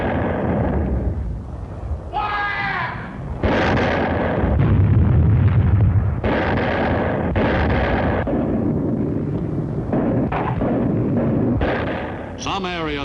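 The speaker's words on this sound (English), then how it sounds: "The crescendo of the howitzers prefaced each new attack." Howitzers fire on Palau, heavy booms and thuds repeating irregularly in a loud, continuous barrage with a narrating voice over it.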